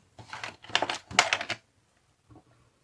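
A plastic straw is snipped shorter with several quick, crisp cuts in a rapid burst close by, then a brief pause and one faint final snip.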